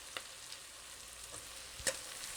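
Onions sautéing in a pan with a steady low sizzle, broken by a few sharp clinks and scrapes as they are stirred, close and fairly quiet with no talking.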